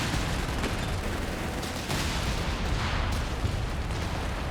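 Booming gunfire and explosions from 17-pounder anti-tank guns in the strategy game Company of Heroes 3, repeated heavy blasts layered over dense continuous battle noise, with no talk.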